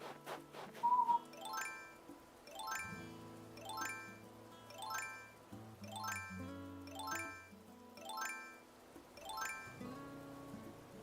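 In Animal Crossing: New Horizons, a bright chime sounds once, then a string of bell-like jingling notes repeats in a regular rhythm over a soft melodic game tune.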